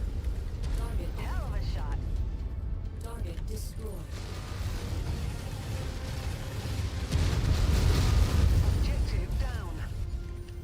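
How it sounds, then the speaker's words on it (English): Mech weapons fire in the MechWarrior 5 video game as bursts of mechanical clanking and blasts, building into a louder, denser barrage toward the end, with someone talking over the top. "I'm doing a lot of shooting right now"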